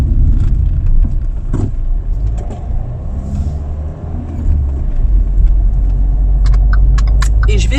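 A car engine idles and rumbles steadily at close range for several seconds before parking, low and continuous, with faint jingling near the end.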